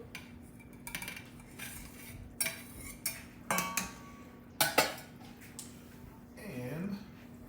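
Andouille sausage and okra tipped into a gumbo pot, with clinks and clatters of utensils against the pot over a steady background hum, while a person talks.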